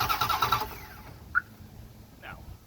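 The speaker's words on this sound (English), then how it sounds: "We're gonna check it again, see if it'll start" A 1997 Dodge Ram engine cranking over and failing to start, a rhythmic mechanical churn lasting under a second up close, then quiet with a couple of faint clicks.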